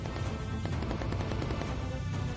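Rapid, dense machine-gun fire from a bomber's gun turret in the Bomber Crew video game, a loud, continuous rattle of overlapping shots with no pauses and no voices.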